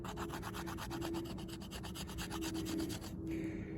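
Spine of a D2 steel drop-point hunting knife scraping fatwood, a rapid rhythmic rasping of repeated strokes, close and fairly quiet, with no talk.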